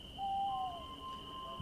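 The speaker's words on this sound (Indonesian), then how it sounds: "Mas, ada burung hantu besar putih di balkon." A large white owl, as a story sound effect: a single soft hoot, thin and tonal, heard alone against a faint steady hum.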